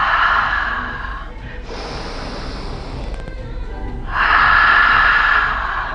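Loud, close breaths during a classical reformer Pilates rowing exercise, a long inhale, then a softer stretch, then another strong breath, with breathy noise filling the clip.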